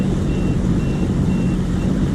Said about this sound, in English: shallow water alarm. I love that feature. Unfortunately, it's not a feature of the ski, it's a feature of that GPS unit.